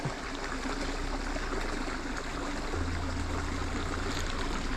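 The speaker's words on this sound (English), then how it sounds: "Seen this little brooky area back in here, just micro streams" A small woodland brook trout stream in the Poconos flows steadily, a constant close trickling and burbling with a faint low hum underneath and no talking.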